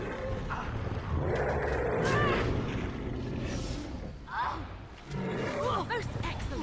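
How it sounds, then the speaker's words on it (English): Ogre roaring in the fantasy game Dragon Age: Origins, guttural growling bellows with rising, wavering cries amid battle noise, and a voice talking over it. "I hear roaring."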